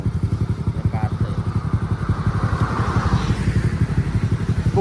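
A motorcycle engine runs steadily with a fast, even pulsing throb close by, steady in loudness throughout, with a brief higher clatter about a second in, on the way to a grave visit on Malam Jumat Legi.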